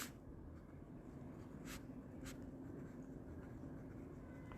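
A pen writing wallet recovery words into a paper diary, heard as a faint, steady scratching close by, with a couple of brief louder strokes and no voices.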